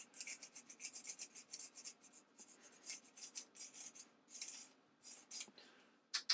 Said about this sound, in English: Just run the oil stone along.